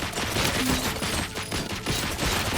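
Hacked turret in the video game RoboCop Rogue City firing rapid, continuous bursts of automatic gunfire, loud and dense for the whole stretch.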